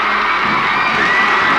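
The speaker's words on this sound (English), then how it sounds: "waving and cheering madly" A large 1945 crowd in Albert Square, Manchester, waves and cheers in a dense, continuous roar of voices and whoops.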